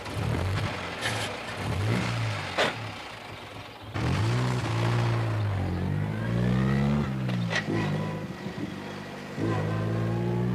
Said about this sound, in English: This looks like a very fast car to me.